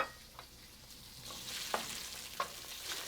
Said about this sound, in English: I'm going to begin with the sausages themselves, sort of caramelize them and get all.